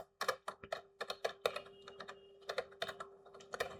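Rapid typing on a computer keyboard, close and clear, with clusters of crisp key clicks in an uneven rhythm over a faint steady hum, no voices.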